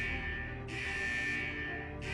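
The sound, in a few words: vault central alarm in video game Wuthering Waves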